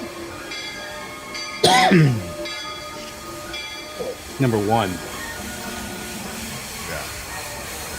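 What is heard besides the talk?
Disney park railroad train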